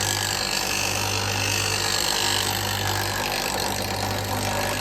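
A bench grinder runs steadily as a woodturning tool is sharpened against the wheel, a continuous loud hum with a low mains-like drone and a dense gritty grinding hiss throughout, no voices.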